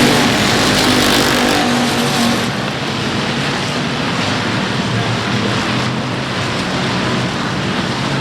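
Stock cars race at South Texas Speedway, a dense, loud roar of engines sweeping past continuously with the broad wash of a pack at speed, and no voices over it.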